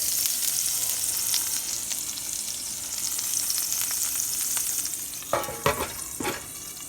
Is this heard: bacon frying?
yes